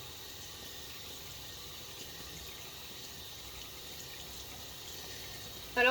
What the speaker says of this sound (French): c'est pas bon de laisser l'eau allumée